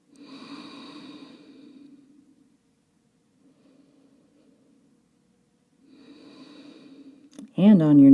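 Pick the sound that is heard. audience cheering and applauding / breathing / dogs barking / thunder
breathing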